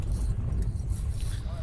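A bunch of keys jingles and rattles briefly against a low rumbling background of a vehicle interior, with a voice talking at the same time.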